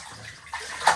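Warm bathwater sloshes and splashes as a dog's paws are rinsed in a bath, a soft steady wash with a sharper splash near the end.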